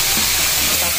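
Potatoes go into a hot pan holding marinated meat, giving a loud, steady hiss and sizzle close by.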